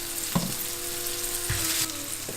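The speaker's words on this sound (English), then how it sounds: "At this point, you can go ahead and throw in your chopped onions." Chopped onions sizzle and fry steadily in hot oil with seeds for a vegan samosa filling, a continuous close crackle broken by a few soft clanks and stirring knocks.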